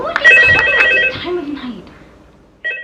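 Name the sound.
telephone ringing in the video game Valox FNAF VHS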